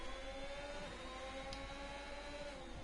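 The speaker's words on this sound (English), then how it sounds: "You can hear the difference in engines between the Honda and the Ferrari" Racing-game Honda and Ferrari car engines whine steadily at high revs, a continuous layered drone of passing cars with no pause and no voices.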